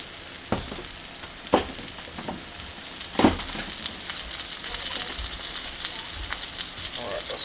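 Eggs frying in a pan, giving a continuous crackling sizzle with a few sharp pops and scrapes of a utensil against the pan.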